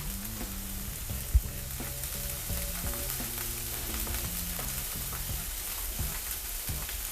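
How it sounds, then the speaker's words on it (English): Fish fries gently in a pan for seafood risotto, a steady, moderate sizzle with a soft clink near the start and no one talking. "So add your fish in. You want it to be nice and gently cooking."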